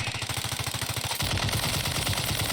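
Rapid automatic gunfire in Warzone 2 rattles out in an even burst, then breaks into a louder, denser stretch of shots and noise.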